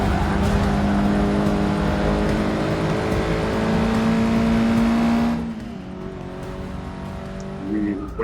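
A racing car engine in Forza Motorsport 6 drones loud and steady, its pitch holding high and then dropping sharply as the car slows, with a brief tire-like squeal near the end.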